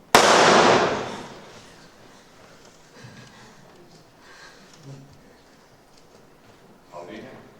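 A single loud, sharp gunshot bursts out at the start and rings off over about a second, followed by quieter room sounds and faint movement with no talk.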